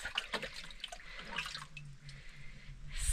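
Clean water from the house is poured into a pot of macaroni outdoors, a soft continuous splashing and trickling at close range with small drips and no voices.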